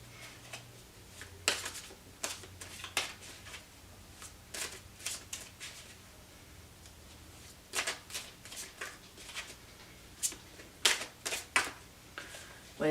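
Tarot cards being shuffled by hand: irregular bursts of crisp riffling and slapping card sounds, close and fairly loud, coming in uneven clusters with short pauses between them.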